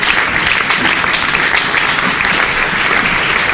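A church congregation applauds loudly and steadily to acclaim the Lord, a dense, continuous wash of clapping with no pause.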